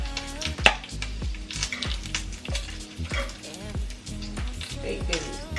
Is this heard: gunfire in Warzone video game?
no